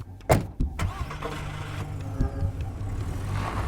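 A car in a radio drama starts with a few sharp knocks and thumps, then its engine settles into a steady running rumble close by.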